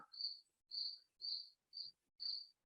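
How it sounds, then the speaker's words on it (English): A loud cricket indoors chirps alone in five evenly spaced, shrill bursts, each about a third of a second long, with quiet gaps between them. "I have a very loud cricket in the background"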